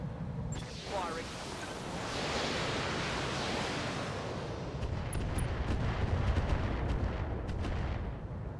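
Weapons fire from a modded Battletech mech combat game, a loud sustained roar of volleys and rumbling impacts with a few sharp clicks near the end, and no one speaking over it.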